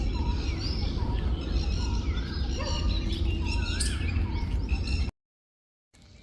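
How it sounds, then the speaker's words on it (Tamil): Peacocks and sparrows call on a morning in a quiet, pollution-free outdoor neighbourhood, a busy mix of overlapping chirps and calls over steady background noise that cuts to silence near the end. "மயில்களும் குருவிகளும் காலையில் அங்கங்கே கத்திக்கிட்டு இருக்கும்"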